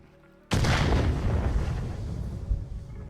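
A grenade blows up in the video game Contractors Showdown: a sudden loud, close boom that hits at once and leaves a rumbling roar lasting a few seconds, with a second smaller thump near the end.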